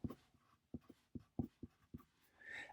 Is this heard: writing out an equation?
yes